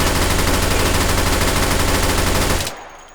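Drum-fed AUG rifle in H3VR firing a fast, unbroken automatic burst, loud and close, that cuts off sharply into a brief ringing decay.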